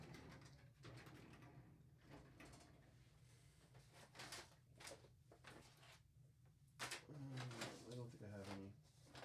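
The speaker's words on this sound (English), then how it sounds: "Pardon me as I go through my drawers here." Drawers slide open and shut with a few sharp knocks and rustles as someone rummages through them, while a person speaks quietly and a pigeon coos prominently nearby.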